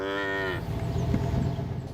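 A single cow on an Alberta ranch lets out a loud, close, drawn-out moo lasting about half a second, followed by a rumbling outdoor background of wind and movement.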